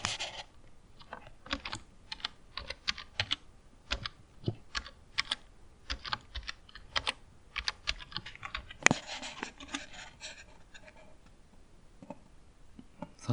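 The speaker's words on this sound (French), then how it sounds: "il faut taper le code" Rapid, uneven key clicks on a computer keyboard as a code is typed, close and fairly quiet, with no voices.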